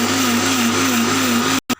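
An electric kitchen blender grinds coconut, cumin and garlic into a paste with a loud, steady whirring drone, then cuts out abruptly and gives one brief burst before going quiet.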